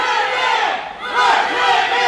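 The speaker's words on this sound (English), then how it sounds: "And the crowd loves Vincenzo out here." Wrestling crowd roaring and shouting in support of Vincenzo, a loud dense wash of cheering voices that swells after a brief dip.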